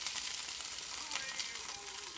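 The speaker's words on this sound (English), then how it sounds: "Mix that around a little bit" About eight basil leaves are stirred into a tomato sauce in a pan with olive oil, giving a faint, steady frying sizzle with light stirring scrapes and no talking.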